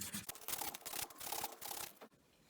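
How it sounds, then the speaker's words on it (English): Inside of a metal ring being sanded by hand with 220 emery paper, giving close, soft rhythmic rubbing strokes that rasp in short bursts with brief pauses between them. "I saved my 220 emery, because I am going to go back and sand the inside of the ring too"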